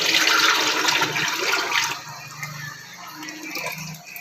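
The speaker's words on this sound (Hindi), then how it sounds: "अब इसमें हम ये जो मेज़ा मैंने पानी के साथ मिक्स किया था ये अब इसमें ऐड करने लगे।" Water-mixed mixture poured into chicken haleem cooking in ghee in a pot, a loud gushing splash at first that eases into a softer, steady trickle and sizzle.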